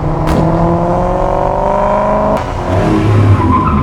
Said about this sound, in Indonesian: Fikran mengendarai mobil temannya yang baru saja ia miliki.